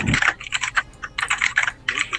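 Rapid bursts of computer keyboard typing, close and clattering in uneven clusters with short pauses, during a Star Wars Empire at War: Forces of Corruption game session.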